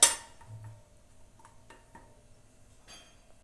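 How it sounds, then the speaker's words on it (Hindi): A spoon scrapes and clinks in a pan as cashews are stirred and roasted in ghee over a low flame. One sharp knock comes first, then scattered light taps, close and quiet. "लो फ्लेम पर काजू को रोस्ट कर लेते हैं।"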